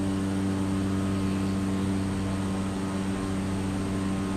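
Regional jet airliner in Microsoft Flight Simulator cruising over a runway: a steady, unbroken engine drone with strong low tonal hum, constant and moderately loud with no voices.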